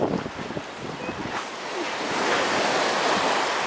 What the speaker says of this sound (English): He's waiting for a lull in the waves.